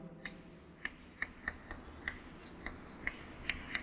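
Chalk or pen writing on a board during a math lesson, sharp taps and short strokes landing at an irregular rhythm, close and fairly quiet.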